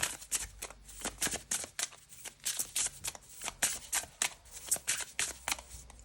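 Tarot cards shuffled by hand in quick rhythmic riffles, each a crisp papery burst repeating steadily and close, with no voices.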